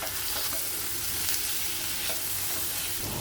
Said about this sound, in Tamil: கருவாடும் மஞ்சள் தூளும் சேர்த்து சிறு தீயிலேயே 10 நிமிஷம் சமைச்சிக்கலாம்.